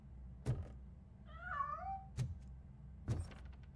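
Cat in the video game RoboCop: Rogue City giving one wavering, mid-length meow, framed by three heavy thunks spaced about a second apart over a low ambient hum.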